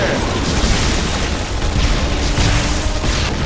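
Rocket blasts in the Anomaly 2 video game, a dense, continuous roar of booming explosions and pops that stays loud and crowded throughout with no clear break.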